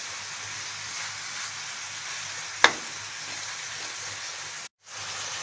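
Meat stir-fries in a pan with a steady, close sizzle that runs throughout. A single sharp utensil tap rings out midway, and the sound briefly cuts out near the end.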